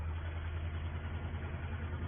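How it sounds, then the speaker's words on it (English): An old farm tractor runs steadily while lifting sugar beet in 1960, its engine giving a continuous low, throbbing drone at an even loudness with no talking. "This tractor probably a little bit slower than the 35, but it climbs the hills that little bit better."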